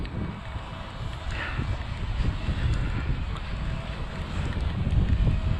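Wind gusts across the microphone as a small Thieye Dr.X drone flies outdoors in rain and wind, a steady, rushing roar that swells toward the end, with no voices.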